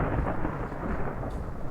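Thunder rumbles steadily and low over an open field during a September storm, a continuous deep roll with no voices over it.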